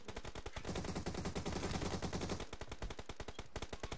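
Rapid automatic gunfire in the mobile shooter PUBG Mobile: tight bursts of quick, evenly spaced shots, briefly thickening into a dense volley before returning to steady rattling fire, fairly close and sharp.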